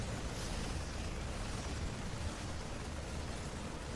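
Tank fire pounding a Zerg hatchery in StarCraft, a dense continuous rumble of explosive impacts with no pauses, loud and close.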